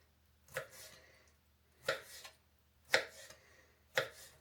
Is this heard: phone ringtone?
no